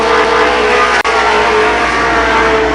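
Modified race cars roar around Columbus Motor Speedway, a loud, sustained engine drone at full throttle with a brief dropout near the middle, no voices over it.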